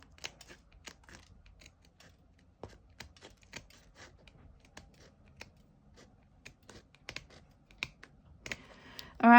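Scissors snipping along the edge of cardstock while making a Z-fold card, a steady run of small crisp cuts and rustles, close and quiet, ending in a louder handling thump.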